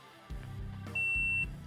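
A shot timer gives one short, sharp electronic beep to start a pistol draw, heard under low rumbling handling noise and shuffling.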